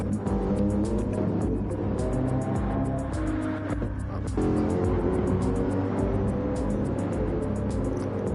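Mercedes AMG race cars thunder around Spa-Francorchamps in Gran Turismo 7, a steady, loud engine drone with shifting revs and passing cars across the whole stretch.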